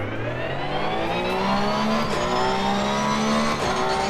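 A car in a racing game on Xbox Series X, driven with a steering wheel, sounds a loud, steady engine drone with rising and falling revs through gear changes, continuous and close, with no talk.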